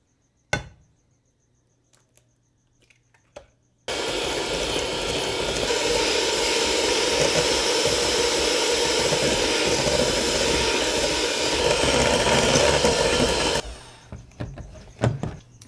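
An electric mixer beating eggs into cookie dough mixture, a loud, steady whirring drone running about ten seconds, with a few clunks before it starts and after it stops.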